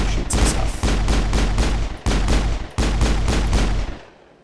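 Sustained automatic gunfire in the video game Mass Effect, a loud rapid stream of shots with a couple of brief pauses before cutting off into silence.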